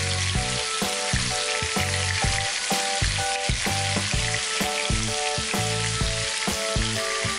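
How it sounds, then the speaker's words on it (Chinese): Tofu pieces frying in hot oil in a wok, a steady loud sizzle with crackling pops throughout, alone with no voices. "起锅热油，放入整块豆腐，用铲子直接把豆腐铲成小块就行"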